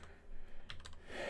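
Computer keyboard keys tapped in a short, fairly faint burst of a few clicks over steady low background hum.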